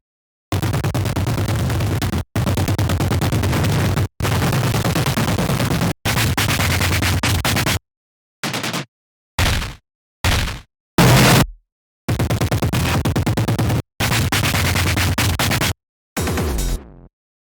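Heavily distorted noise loop built from notes recorded on the Massive X synth, a series of harsh, loud, full-band blasts chopped into blocks of varying length with hard cuts and brief silences between, ending in short stuttering bursts.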